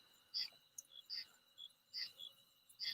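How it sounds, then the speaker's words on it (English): Frogs call outside at night in quiet, repeated high chirping bursts, close and rhythmic, over an otherwise calm, faint background. "I don't know if y'all can hear the frogs"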